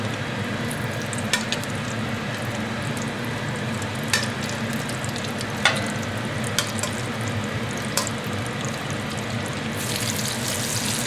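Pork pieces fry in hot oil for sweet and sour pork, a loud, dense, continuous sizzle close by. Sharp pops and spatters cut through at irregular intervals, with a brighter hiss surging near the end.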